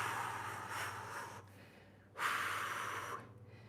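A person takes deep breaths during a lower-body stretch, close and quiet: a long airy exhale, a pause, then a sharp fuller inhale or exhale. A low steady hum runs underneath.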